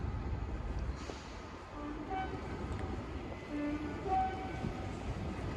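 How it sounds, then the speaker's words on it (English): A Transport for Wales service to Cardiff Central pulls out of a station with a steady low rumble and rolling rail noise, joined by a few brief tonal squeals or horn notes, moderately loud and constant throughout. "Departing now is the 1514 Transport for Wales service to Cardiff Central."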